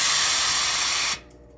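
A powerful steam iron pressing double fold bias tape lets out a loud, continuous burst of steam hiss for about a second, then stops abruptly, leaving quiet room tone.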